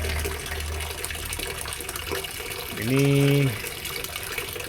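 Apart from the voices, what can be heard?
water pouring from a pond fountain spout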